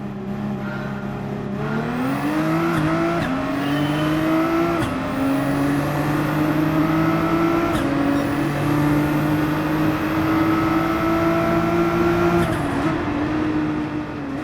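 Skyline GT-R race cars on the first lap in the Gran Turismo 7 video game, a loud steady engine drone that climbs and drops in pitch through gear shifts, with other cars whirring close alongside throughout.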